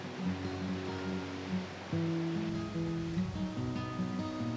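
Upper and Lower Falls of the Yellowstone River pouring over 5,000 gallons per second, a steady broad roar of falling water with a low tonal hum layered in, moderately loud and unbroken.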